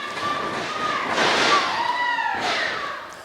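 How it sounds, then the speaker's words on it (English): A heavy wrestler slams violently into the ring corner during a match, a loud booming thud and rattling ring shake, followed by a second impact, set in a noisy arena with crowd and commentary. "Darkstorm sent violently into the corner"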